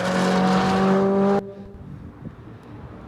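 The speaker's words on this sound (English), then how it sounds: "Here's the first really aggressive drive in anger, we call it, at Black Lake" Corvette driven aggressively at Black Lake in Milford, a loud close engine roar with strong tonal drone that cuts off abruptly, leaving quiet ambient noise.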